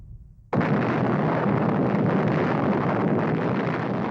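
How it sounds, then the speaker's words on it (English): The 1945 atomic bomb explosion over Hiroshima, Japan, bursts in abruptly after a moment of near silence and becomes a loud, sustained roaring rumble that does not fade. "the U.S. drops the first atomic bomb on Hiroshima, Japan"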